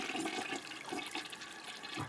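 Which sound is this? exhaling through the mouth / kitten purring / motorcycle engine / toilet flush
toilet flush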